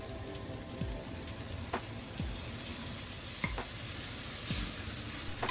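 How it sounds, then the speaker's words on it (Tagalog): Pork sizzles steadily in a hot pan for Filipino pork binagoongan, a dense crackling hiss with occasional faint clinks of a utensil, no talking. "Isutay natin to ng about a minute"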